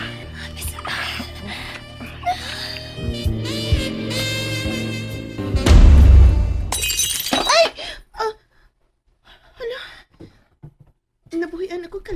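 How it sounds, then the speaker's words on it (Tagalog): A drinking glass drops and shatters in a loud, sharp burst of breaking glass amid music and voices, followed by quieter talk and scattered small sounds. "Nabuhian ako kalit ang baso."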